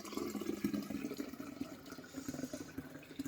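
Kombucha poured from a container into a glass bottle, filled up to the neck during second fermentation, making a steady liquid gurgle and trickle with small irregular splashes that runs continuously at moderate, close range.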